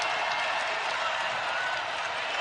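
A basketball arena crowd at Oklahoma versus Iowa State cheers and applauds on its feet, a loud, dense, sustained roar of voices and clapping throughout.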